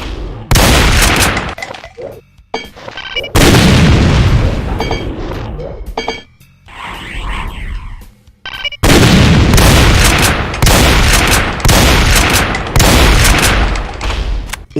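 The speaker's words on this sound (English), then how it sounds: "It can fire a multiple spread of phase fireballs like the Phase Fiend, but it can also throw larger waving phase projectiles." A demon in a Doom mod hurls spreads of phase fireballs and larger waving phase projectiles, loud repeated blasts and booms in dense bursts with brief gaps and a warbling energy tone between them.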